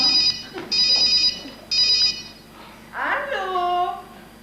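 A telephone rings indoors in a French TV film: three bright electronic trills in quick succession, loud and near, followed by a person speaking.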